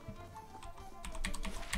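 Typing on a computer keyboard during a Pillars of Eternity game session, a quick run of soft close key clicks that grows denser and louder toward the end, with no talking.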